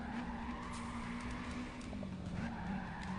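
A car drifts with a continuous tire squeal and engine drone in Gran Turismo 5, sustained and fairly loud throughout with no voices.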